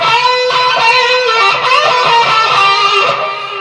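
A distorted electric guitar from a solo bends a note on the G string at the 14th fret up a full tone, a loud sustained, gritty lead line rising in pitch.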